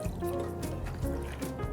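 Whiskey trickles steadily into a mixing vessel for an Old Fashioned, a soft continuous pour with faint gurgles, low and close in a quiet room.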